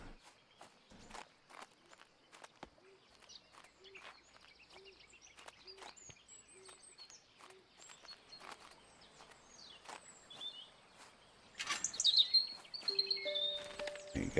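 A robin in the garden of Botany Manor gives soft, brief chirps amid quiet footsteps, with a busier burst of higher tweets and clatter near the end; no one speaks.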